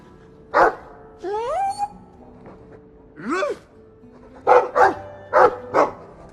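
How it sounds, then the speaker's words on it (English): A dog in the Dragon Age II video game gives a few short barks and yips, with whining pitch-sliding sounds between them, spaced across several seconds against a quiet background. "I like the doggy."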